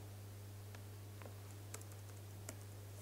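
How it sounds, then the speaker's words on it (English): Soft, sparse keystrokes on a computer keyboard, a few scattered clicks at an irregular pace over a steady low electrical hum, with no one speaking. "Oh, this is my keyboard."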